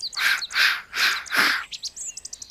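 Birds chirping in a forest: four loud, drawn-out calls in a steady rhythm, then a quick run of short, fainter chirps, close by with no talk.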